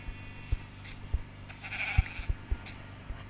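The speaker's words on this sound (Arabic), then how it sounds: "هلا عمو الخروف" A sheep in a game bleats a few short times, a sparse bleat standing out above soft ambient noise with several low thumps scattered through.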